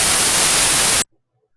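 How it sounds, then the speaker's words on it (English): Steady white noise from an audio programming console hisses loudly and evenly for about a second, then cuts off abruptly into silence. "Oh, and the audio sound just stop after 2 seconds. White noise finish."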